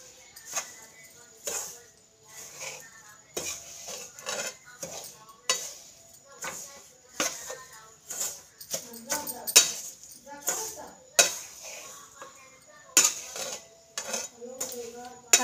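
A metal spoon scrapes and clinks repeatedly inside a kadai as powdered sugar and grated coconut are stirred together, making rapid, irregular strokes close to the mic with faint talk underneath.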